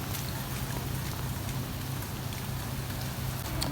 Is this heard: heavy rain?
yes